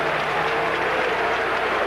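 Baseball crowd at Dodger Stadium during the 1981 World Series giving a departing Dodgers player an ovation, a dense steady wash of applause and cheering filling the whole moment.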